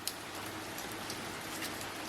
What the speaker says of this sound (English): completely pouring outside.